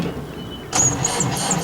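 A car engine failing to start, with a short whining, squealing crank that rises abruptly after a quiet moment and stutters in uneven pulses without catching, close and unaccompanied by talk.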